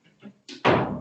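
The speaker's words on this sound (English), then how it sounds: "Let me just shut this door." A door in a room in Spain is pushed shut with a single loud thud near the end, after a few quieter knocks and rattles of handling.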